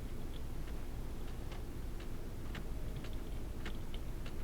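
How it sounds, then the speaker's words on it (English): Broken clock from the puzzle game Myst: irregular, sharp little ticks tap out over a constant low hum and hiss, uneven in spacing and close by, with no voices. "Broken clock sounds."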